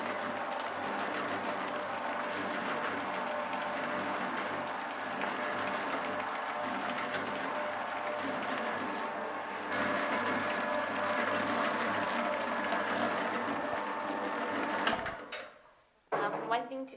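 An electric bakery mixing machine runs steadily at a constant loud drone in a confectionery kitchen, a continuous mechanical hum with a rattling texture that carries on for most of the stretch before cutting off near the end, with voices briefly underneath.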